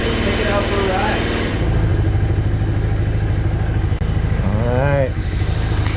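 A five-year-old scooter engine idles and runs steadily up close with a loud, constant rumble, and someone speaks briefly over it.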